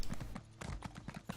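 Horse hooves clip-clop in a steady, close rhythm as a mount trots along in the fantasy video game The Elder Scrolls Online, with several crisp repeated strikes over a short stretch.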